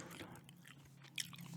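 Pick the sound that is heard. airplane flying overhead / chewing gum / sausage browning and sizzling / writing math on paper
chewing gum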